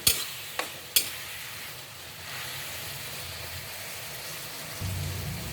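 Hotdog pieces stirred in a hot pan with soy sauce and sugar, a steady sizzle under occasional utensil scrapes and clicks near the start, close and moderately quiet.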